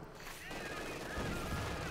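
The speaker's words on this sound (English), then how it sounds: "Bunker under fire from the T-34 from 6." Dense, continuous machine-gun and tank fire hammers a bunker in a Company of Heroes 2 battle, loud and rattling without pause, with a commentator talking over it.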